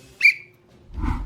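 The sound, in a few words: a person whistling as a signal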